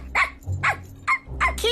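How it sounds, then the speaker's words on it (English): Kiwi, a small cartoon dog, lets out four quick, sharp barks in a steady rhythm, close and loud. "Yeah, you're a good dog."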